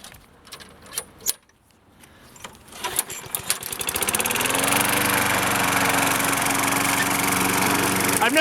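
A Craftsman 6.75hp lawn mower in a suburban yard: a few pulls and clatters, then the engine catches and settles into a loud, steady, buzzing drone that runs without a break.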